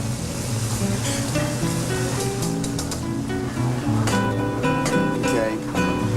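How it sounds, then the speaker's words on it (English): Pork rolled in a spice coating sears in a hot pan for Texas-Mexican enchiladas verdes, giving a loud, steady sizzle throughout while a voice talks over it. "you're scorching it, you're shocking the outside, it's almost like browning it"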